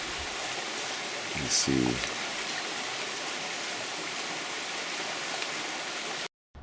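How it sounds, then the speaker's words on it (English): Running water from a sacred waterfall where a flowering plant grows, a steady full rushing wash heard close and continuous, with brief speech and a short knock partway through before it cuts out near the end. "the plant itself is growing in this running water out of the sacred waterfall"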